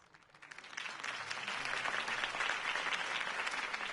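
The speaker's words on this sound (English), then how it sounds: "could have heard that applause" Applause from a crowd at a political campaign rally in a PS4 video game, swelling quickly from quiet to a sustained, even clatter of clapping heard alone for several seconds.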